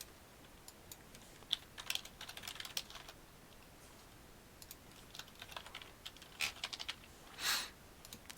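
Fingers tap a computer keyboard quietly in a few short scattered bursts of clicks, with a louder keystroke cluster near the end against a faint background hiss.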